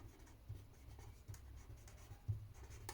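A pen scratches across paper as a math statement is written by hand, giving faint, close, irregular strokes and taps over a quiet room hum.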